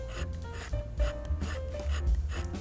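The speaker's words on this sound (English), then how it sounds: "So there's something inside here that's rubbing." Something grinding and rubbing inside a defective Neewer follow focus as its gear is turned, a close, uneven scraping rasp in several short bursts over a low background hum, without speech.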